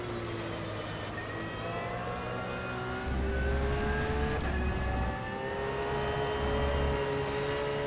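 A Bentley race car engine in a racing video game, holding a steady high drone that climbs in pitch through the gears, loud and continuous with no talk over it.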